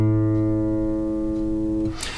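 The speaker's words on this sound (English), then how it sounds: "So if we were to play an open A on a guitar" A guitar's open A string rings out once as a single sustained, harmonically rich note that decays slowly, then is cut off by a brief noise at the end.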